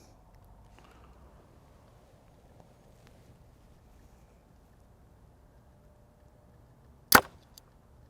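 A single sharp, loud snap of an arrow released from a Hoyt Ventum 30 compound bow cuts through a quiet, low ambient hush near the end.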